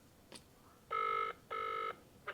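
A telephone rings unanswered, two loud electronic ring bursts in a row with a short gap, a third just beginning at the end, over quiet room background.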